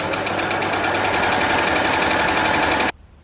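A Baby Lock Acclaim overlock machine runs a narrow free thread stitch, a loud, even, rapid mechanical whir that holds steady for almost three seconds and then cuts off sharply into quiet.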